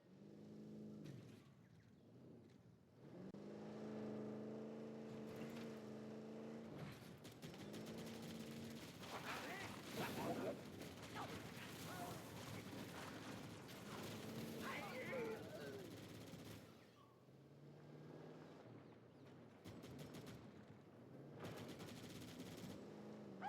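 Gunfire crackles through a Halo battle, with bursts of automatic and single shots scattered across a busy scene of vehicle hum and other effects, while voices talk intermittently.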